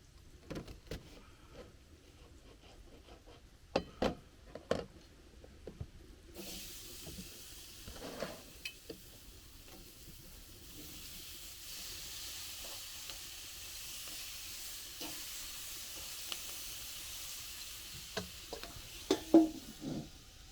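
Vegetables sautéing in a pot at a cabin, a soft steady sizzle and hiss building after a few stirring knocks, faint and with no talking, and a couple of louder clatters near the end.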